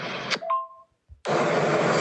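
An old phone gives a short electronic beep and a brief tone between bursts of loud hiss-like noise, then a gap of near silence before the noise returns.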